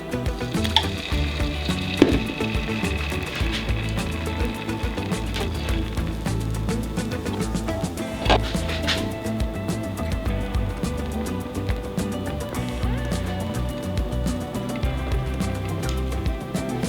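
A vegan fried egg cooks in a skillet, giving a continuous soft sizzle and crackle with small scattered pops and a few louder ticks, no voices.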